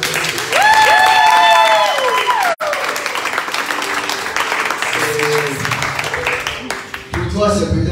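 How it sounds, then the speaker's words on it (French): Church congregation applauding and cheering during a worship service, a loud sustained wash of clapping and crowd noise with singing or vocal tones on top, briefly cut off, then continuing with voices. "On peut acclamer le Seigneur."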